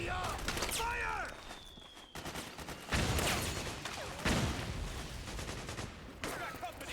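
Gunfire in the video game Metal Gear Solid 4, with repeated bursts of automatic shots and bangs over several seconds, mixed with shouted voices and battle noise.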